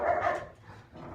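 Dogs barking and yipping while play fighting indoors, a quick burst of a few close yaps and a short whimper over a faint background.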